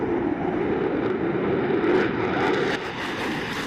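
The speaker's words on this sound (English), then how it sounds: "The most adaptable category of combat aircraft remains the fighter." Fighter jet in flight, a steady, loud broadband engine roar that holds without a break.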